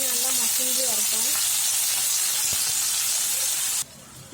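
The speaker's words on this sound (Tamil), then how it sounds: "இப்போ நம்ம எடுத்து வச்சிருக்க தக்காளியை போட்டுக்கலாம்" Tomatoes fry in a pan with shallots and garlic for a ladies finger puli kulambu, making a loud, steady hiss and sizzle that runs throughout and drops abruptly quieter near the end.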